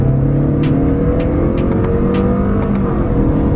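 A Lexus RC 300 (200t) accelerating hard down a straightaway, a loud, steady engine drone from inside the cabin with rising pitch and brief quick gear shifts, no talking.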